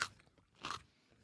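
Crunchy chewing of a spicy pepper-and-salt snack, close and quiet: one crisp bite at the start, a second louder crunch about half a second later, soft mouth sounds between, no talking.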